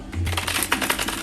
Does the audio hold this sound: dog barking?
no